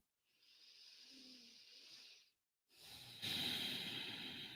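Slow, deep breath, a soft airy inhale of about two seconds, a brief pause, then a louder, fuller exhale, close and quiet with no talking.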